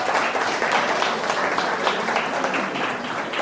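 A crowd applauds and cheers for the town of Vesoul at a regional event, dense steady clapping sustained throughout.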